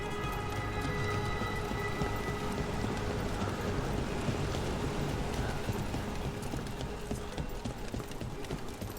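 Rushing waterfall in the fantasy video game Dragon Age: The Veilguard, a steady, dense roar of falling water that stays loud and unbroken from start to finish, with no voices.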